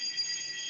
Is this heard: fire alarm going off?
yes